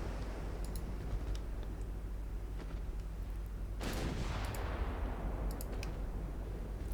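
A naval artillery salvo in Ultimate Admiral Dreadnoughts, a single heavy boom with a rolling tail that fades over several seconds, preceded and followed by faint distant thumps and clicks over a steady low rumble.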